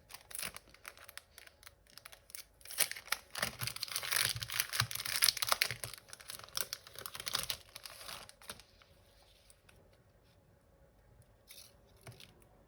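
Crinkling, tearing packaging and scissor-like snips as an advent calendar parcel is opened, busy and close for several seconds before fading to a few faint rustles.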